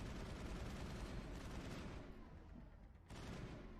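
Gunfire in the Mass Effect video game, a dense continuous burst of rapid shots that briefly drops off near the end before resuming.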